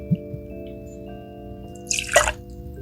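One ounce of Kavalan whisky poured for a highball, a short splashing trickle of liquid near the end after a couple of faint clinks, otherwise quiet.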